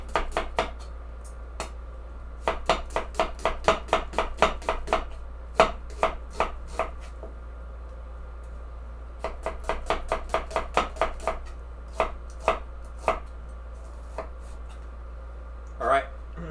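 A knife chops onions on a board for French onion soup, rapid rhythmic bursts of close, crisp cuts with short pauses between runs, a steady low hum underneath.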